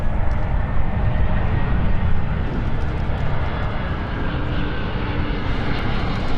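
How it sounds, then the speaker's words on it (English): Jet airliner at London City Airport roaring steadily and loud throughout, a continuous broadband engine rumble with no pauses. "the same aircraft that we saw, which has got the rainbow ringlet"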